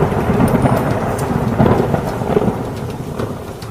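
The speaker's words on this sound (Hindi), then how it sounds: "इतनी तीव्र वर्षा तो मैंने वृंदावन में आज तक नहीं देखी।" Heavy rain pours steadily with low rumbling thunder rolling underneath, loud and continuous throughout, a storm sound effect in a devotional stage play.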